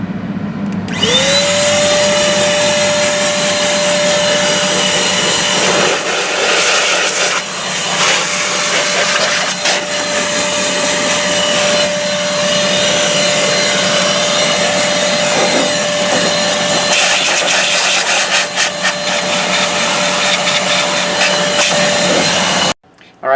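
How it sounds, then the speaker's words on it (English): Compressed air or an electric duster blows dust out of a desktop PC's interior, a loud, steady high-pitched whine held for about twenty seconds with fluctuating hiss and rattling bursts, then cutting off. "So let me show you real quick how to blow it off."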